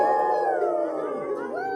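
A person's voice imitates a coyote howl, a sustained wavering howl that bends downward, then rises again near the end, close and fairly loud, with no other talk.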